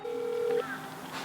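Telephone dialing tones ring out as a call is placed to someone: a steady held tone runs for about half a second, then shifts to a lower, quieter tone, with faint murmuring noise behind.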